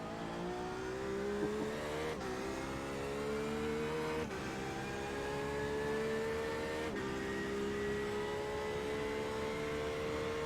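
A BMW GT3 race car in the iRacing simulator at Daytona drones past with a steady high engine whine, its pitch stepping up through gear changes several times, loud and continuous with no talk.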